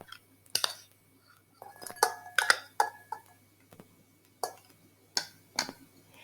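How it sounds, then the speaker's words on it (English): Food is scooped and transferred into a serving bowl, producing a series of sharp clinks and taps of a utensil against the dish, spaced irregularly with quiet gaps between them, close and fairly crisp. "Transfer to a serving bowl"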